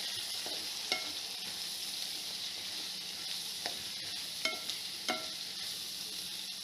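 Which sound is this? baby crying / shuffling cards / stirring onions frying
stirring onions frying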